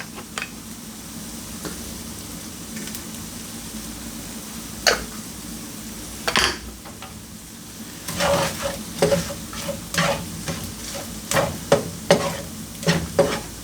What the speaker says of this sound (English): We'll scramble this up like a bit of a scrambled egg, and you don't really want to cook this too long.